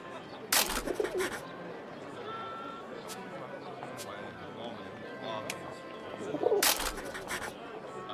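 A pigeon coos in a World War I video game, 11-11 Memories Retold, against a steady ambient bed, with two louder noisy bursts near the start and end.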